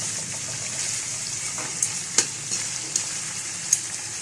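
Chicken fries in a pan with a steady close hiss of sizzling oil. Several sharp pops and spatters break through, and no one talks.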